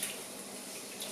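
Water trickling and splashing as pre-wetted fabric, soaked in ordinary cold water, is wrung out by hand; a steady close, soft stream.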